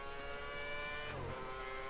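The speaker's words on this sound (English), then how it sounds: "Going through down the middle sector in our understeering Virgin racing car" A Virgin Racing Formula 1 car in the F1 2010 game runs through a track sector with a steady high engine whine, its pitch briefly dipping mid-clip as revs shift, continuous and without speech.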